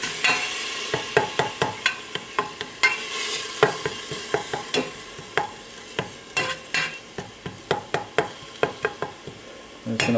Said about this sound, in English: I'm just going to let that cook down.